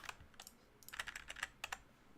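Computer keyboard keys pressed in short irregular bursts of quiet clicks, close and soft, with no talk.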